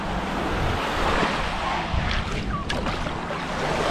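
Sea surf rolling onto a beach on Crete, a steady broadband wash with wind buffeting the microphone, faint and continuous, without any voices.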